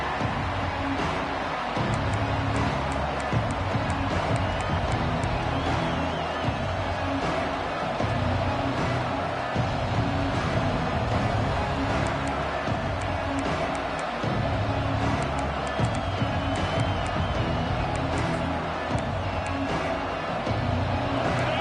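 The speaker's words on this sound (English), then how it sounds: "It's early, but this crowd is fired up. Listen to this noise here." A packed stadium crowd in a college football video game roars in a dense, continuous wash of cheering and noise, steady and loud throughout with no voices standing out.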